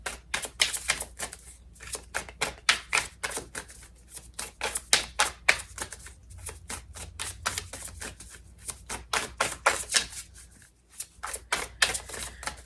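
Tarot cards being shuffled close up in fast, crisp riffling bursts, each a rapid flutter of snapping card edges, repeating with short pauses between rounds and no talking.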